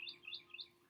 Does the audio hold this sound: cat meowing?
no